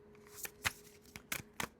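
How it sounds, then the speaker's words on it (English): Tarot cards being shuffled by hand, several short papery riffles and slaps in an uneven rhythm, close and fairly quiet, with no voices. "Let me give this one more shuffle"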